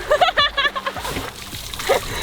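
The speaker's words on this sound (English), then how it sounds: "she can suck up water into it and then spray it all over her entire body" A 9,000-pound elephant spraying water over her body, wet splashes and sloshing up close, mixed with excited human voices.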